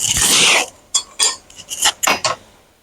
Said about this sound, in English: I'm going to smash them with the potato masher